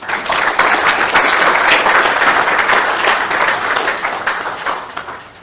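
Sustained applause from a seated conference audience at a forestry presentation, steady and full for several seconds before tapering off, with no talking over it.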